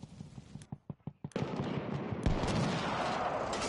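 Tank gunfire hits in a video game: a rapid burst of sharp cracks and thuds, then a sustained loud roar of heavy impacts and rumbling explosions.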